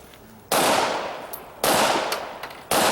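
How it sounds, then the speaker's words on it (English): Three loud, sharp pistol shots at an IDPA shooting match stage on a swinging target, each a sudden crack with a ringing tail, spaced about a second apart, with faint metallic pings of steel targets in between. "Charge the weapon and engage the swinger with 2 rounds"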